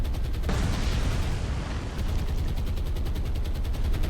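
Anti-aircraft guns fire from a warship in the naval game War on the Sea as aircraft attack, a dense, loud, continuous barrage of rapid rhythmic shots with heavy booming underneath.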